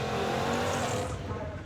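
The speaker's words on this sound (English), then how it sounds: "All right, we got a burnout going." A Trans Am doing a burnout, its engine roaring steadily while the tires squeal loudly without a break, close and dominant, with faint voices mixed in underneath.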